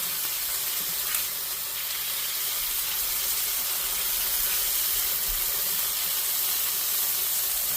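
Lemon chicken pieces sizzle and steam steadily on a hot Blackstone griddle, a dense continuous frying hiss with faint crackles, close and even throughout, with no voices.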